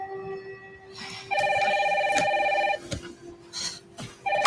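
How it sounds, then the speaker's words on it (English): A home telephone rings indoors with repeated electronic trilling bursts, loud and close, while heavy rain falls steadily in the background. "Mom, phone."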